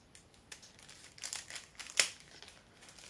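A package being cut open, with a few quiet crinkles and snips of packaging and one sharp tearing rasp near the end, close by and with no talking.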